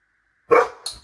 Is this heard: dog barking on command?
yes